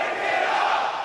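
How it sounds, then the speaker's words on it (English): A loud, dense crowd roars and cheers without pause at a live Call of Duty League Major esports event, a broad wash of many voices filling the arena. "Man, listen to this crowd."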